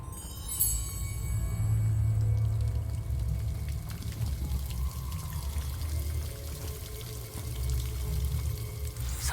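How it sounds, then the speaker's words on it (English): Waterfall in the wizarding game Hogwarts Legacy, a continuous low rushing pour of water that holds steady throughout, joined by a few faint higher tones near the start and no speech. "The waterfall."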